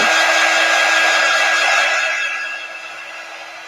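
A handheld dryer blows steadily at close range to dry a Chalk Couture transfer for a lemon garland kit, a continuous airy whoosh with a faint steady whine that eases slightly toward the end, with no talking.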